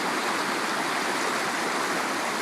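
Class 4 river rapids rush past Mammoth Bar, a loud, dense, unbroken roar of churning whitewater heard close up with nothing else over it.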